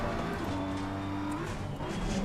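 BMW race car in Assetto Corsa Competizione, its engine droning loud and steady with small pitch shifts and some tyre hiss, continuous throughout with no talking.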